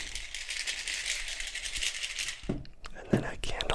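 Small pills rattle inside a plastic morning medicine bottle in a cluttered man cave, a close, busy shaking that stops abruptly, then gives way to a few softer taps and clicks, with whispering nearby.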